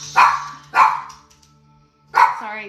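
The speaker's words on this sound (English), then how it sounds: "My boyfriend scared my dog." A startled dog barks three times, close and loud: two quick sharp barks, a pause, then a final bark trailing into a soft whine.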